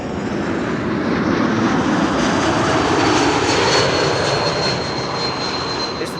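An airliner landing at Amsterdam Schiphol Airport makes a loud, steady roar of aircraft engines that swells slightly and then holds close and constant throughout, with no voices.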